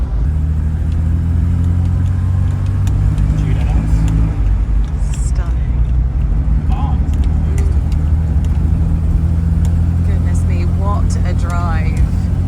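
An Aston Martin driving on the road, its engine a steady low rumble with road and wind noise throughout, and a voice talking over it.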